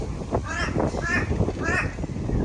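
A crow caws close by, three or four harsh rasping calls spaced about half a second apart, clear and fairly loud over faint background noise.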